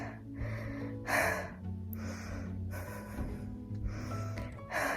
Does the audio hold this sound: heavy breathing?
yes